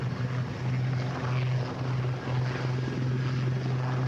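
Black Cats display helicopters from 702 Naval Air Squadron fly at the RIAT 2004 air display, a steady droning rotor and engine hum holding throughout at moderate loudness.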